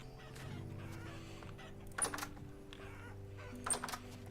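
Clucking chickens in the survival game Vintage Story, soft and close, with a couple of brief sharp clicks standing out over a steady background hum.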